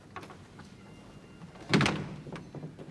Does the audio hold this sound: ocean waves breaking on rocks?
no